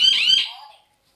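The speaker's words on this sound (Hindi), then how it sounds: "फ्रेंड्स, आपने देखा कि कैसे ये अलार्म वर्क करता है" A sensor-triggered alarm gadget gives a short, loud electronic warble that sweeps in pitch for under half a second, then fades into silence.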